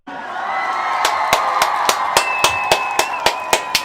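A crowd cheers and whoops continuously while sharp, regular claps or beats punctuate the noise in a steady rhythm.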